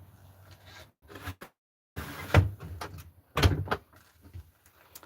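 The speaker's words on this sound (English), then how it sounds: "let me close the door" An RV door swings shut with a couple of solid clunks and latch clicks, close and fairly loud, with a short silence before the main thuds and some softer rattles after.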